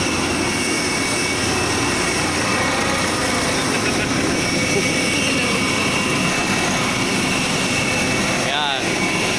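A parked jet airliner's engines roar loud and steady while passengers line up to board, with a brief squeal near the end and people chattering faintly underneath.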